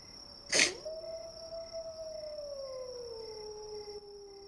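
Wolves howl as played ambience during a tabletop role-playing game, one long howl rising then sliding slowly downward over a faint steady background, preceded by a brief burst of noise.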